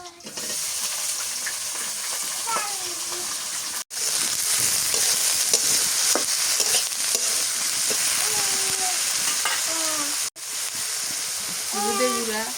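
Prawns fry in a pan with a loud, continuous sizzle and hiss throughout, broken by occasional clinks of stirring and a couple of brief pauses, while faint voices sound in the background.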